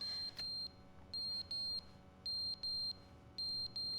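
A fire alarm in The Stanley Parable sounds as a loud, high electronic beep, repeated in short evenly spaced pairs of bursts with gaps between them, steady and alone.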